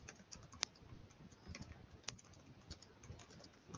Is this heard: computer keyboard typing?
yes